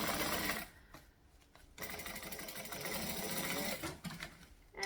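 A sewing machine back stitching a handbag, its rapid mechanical whirr running in bursts with short pauses as the stitching direction changes, close and clear.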